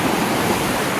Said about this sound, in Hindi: ये देखें जी पत्थरों के अंदर से किस तरह काटा हुआ और पानी जा रहा है।